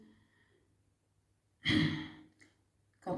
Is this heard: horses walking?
no